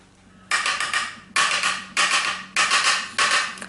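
A makeup brush tapped against an Anastasia bronzer pan gives five close, bright rattling bursts, each about half a second long, separated by short pauses.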